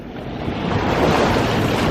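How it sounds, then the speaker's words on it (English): Waves wash in and swell on the River Thames foreshore in London, a broad, loud rushing surge that builds and holds close by, with wind on the microphone and no talk. "let me wait for these waves"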